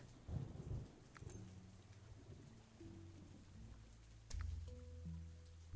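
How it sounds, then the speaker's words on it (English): Thunder from a lightning strike during a storm in the pirate video game Cleo: A Pirate's Tale: rumbling booms over steady rain, with a heavy crack near the end under the game's soft musical tones. "The lightning struck directly into this tree."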